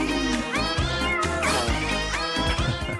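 Oggy, the blue cartoon cat from Oggy and the Cockroaches, lets out a rapid string of loud, gliding meows and yowls layered over busy cartoon sound, with no speech.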